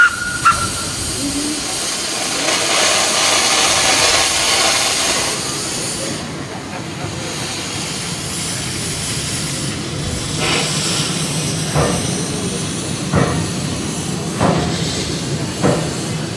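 Odin, a replica of Denmark's first steam locomotive, releases a sustained breathy hiss of steam at close range, broken later by several short sharp bursts and faint clanks.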